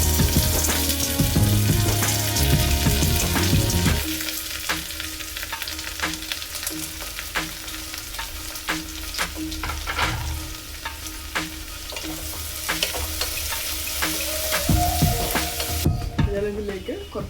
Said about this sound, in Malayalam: എണ്ണ ചൂടായി വരുമ്പോൾ ഞാനിതിലേക്ക് കുറച്ച് ചെറുള്ളി, ഒരു സവാള, ഒരു ഹാഫ് തക്കാളി, 2 പച്ചമുളക്, കുറച്ച് കറിവേപ്പില എല്ലാം കൂടി നമുക്ക് കുക്കറിലേക്ക് ഇട്ട് കൊടുക്കാം